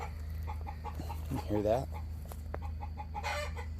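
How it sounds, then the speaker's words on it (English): Backyard chickens clucking in a garden with mulch, short low calls and one louder squawking burst under a voice asking a brief question. "Why are our chickens so dumb?"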